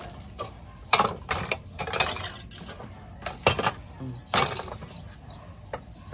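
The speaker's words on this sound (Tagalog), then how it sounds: "Tapos, lagyan na natin itong potting mix." Potting mix of coco fiber, coco cubes and crushed charcoal going into a plant pot while repotting an anthurium: a series of irregular close clinks and rattling scrapes with pauses between, and no talking.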